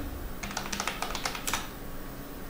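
A computer keyboard clatters under a short burst of quick typing, a dozen or so light key clicks in a row, close and fairly quiet, then stops.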